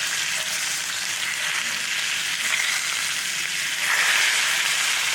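A New York strip steak frying in a cast iron skillet, a steady, close sizzle that swells a little louder near the end, with no talking.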